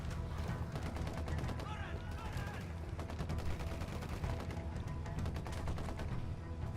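A squad in the video game Ghost Recon Wildlands fires continuously, dense overlapping rifle and machine-gun bursts forming a constant rattling barrage with a voice talking underneath.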